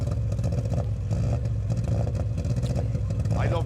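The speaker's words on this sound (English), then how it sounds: "they're revving the Subaru" Subaru rally car engine on a rally stage start ramp at the West Cork Rally, revving loudly and continuously at close range with rough, throbbing low rumble and clattering, amid crowd noise.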